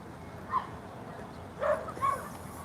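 A dog at a dog park gives a few short yips or barks, at about half a second and again near 1.7 and 2.1 seconds, fairly distant and faint over steady outdoor city background.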